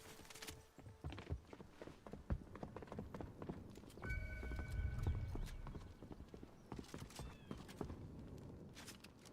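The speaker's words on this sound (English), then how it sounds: "Why is there 2 footsteps?" Horse hooves clip-clopping in the game Fortnite, a steady, fairly close trot with a brief whinny-like tone midway, over busy game noise.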